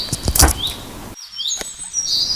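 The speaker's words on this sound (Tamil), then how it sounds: "புறாவும் அங்கிருந்து பறந்து இரை தேடச் சென்றது" A pigeon flaps its wings as it flies away in an animated Tamil fable: a loud burst of wingbeats at the start, then quieter air with faint chirps.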